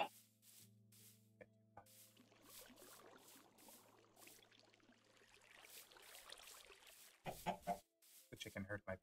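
A Minecraft chicken clucks in short bursts over a quiet, low game backdrop, with a few isolated clicks and a louder stretch of speech-like chatter near the end.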